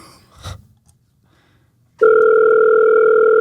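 A phone call connecting through toward voicemail: a short click and rustle, a pause of silence, then a loud steady electronic tone begins and holds to the end.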